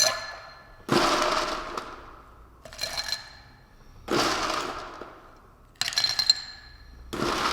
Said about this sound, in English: Fill your mixing glass with ice.